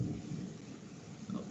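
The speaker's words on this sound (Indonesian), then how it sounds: "di tempat saya memang sedang hujan deras" Rain beats down steadily outdoors while thunder rumbles low and muffled in the background, a constant dull wash of noise without any talking.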